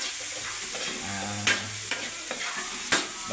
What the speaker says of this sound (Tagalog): Haluin pa ng haluin.